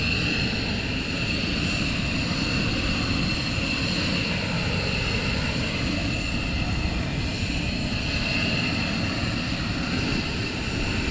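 Military jet aircraft engine roaring during an early-morning launch at RAF Lakenheath, a loud, steady broadband rumble and whine that holds unbroken from start to finish.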